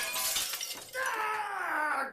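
Window glass shatters in a loud, close crash, then breaking shards ring and tinkle for about a second as the sound fades out.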